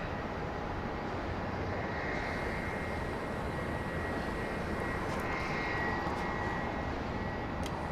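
A Boeing 737 MAX 8 jet on approach to land at Dallas Love Field, a loud, sustained engine roar and whine that swells gradually over several seconds with no voices.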